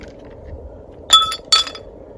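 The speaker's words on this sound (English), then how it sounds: "I'm just going to build it in my hurricane glass here. A little bit of ice." Ice cubes drop into a hurricane glass with two bright, ringing clinks a fraction of a second apart, close and crisp over a quiet room.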